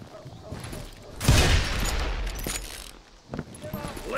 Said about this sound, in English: They're shooting in the street!